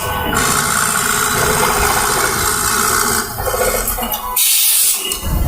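A programmable machine runs during programming, giving a loud, steady mechanical whir and rubbing drone with a brief dip and a shift in tone near the end.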